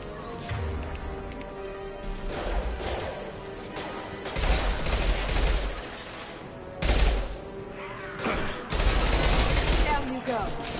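Gunfire and a concussive shot ability in Mass Effect Legendary Edition: loud bursts of weapon fire and heavy impacts, with a strong blast near the middle, over a steady game soundtrack and voices.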